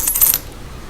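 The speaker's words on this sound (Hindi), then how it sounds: "तो ये है 1 रुपये का सिक्का" Indian 1 rupee coin handled, giving a short burst of bright metallic clinks over about a third of a second, close and fairly loud, followed by quiet.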